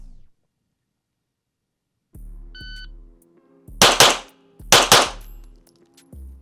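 Two quick pairs of Glock pistol shots crack close and loud on a shooting range, each double separated by a short pause, preceded by a timer beep and softer clanks.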